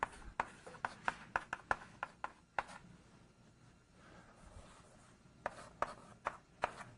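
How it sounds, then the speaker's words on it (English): Chalk taps and scrapes on a board as a lecturer writes out an equation in an MIT digital communication lecture: rapid clustered strokes, a pause, then another burst of writing, close and fairly quiet, with no talking. "Let me write it out."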